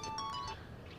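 A phone rings with an incoming call, a short electronic ringtone of a couple of bright tones in the first half second over a low outdoor background hum, then fades, fairly faint.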